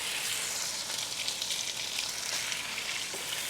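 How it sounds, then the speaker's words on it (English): Pierogi sizzle steadily in a pan of butter and oil, a close, even hiss that carries on throughout with no talk. "I want to let the pierogi cook in a single layer just until it turns spotty brown"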